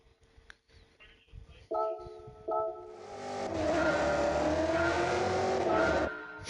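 A police car in the Gran Turismo 7 racing game power-slides with a rising engine roar and a long, loud tire squeal that holds steady for several seconds before cutting off.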